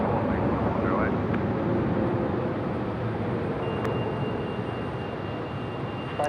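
A Jetstar airliner landing on runway 27 at Melbourne Airport, heard as a steady, broad distant engine roar that holds throughout, with a voice talking over it.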